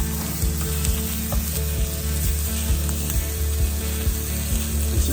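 Ahi tuna and clams sear in a pan on the stove, giving a loud, steady sizzle and crackle that runs through the whole stretch, with faint clinks and scrapes from stirring over a low hum.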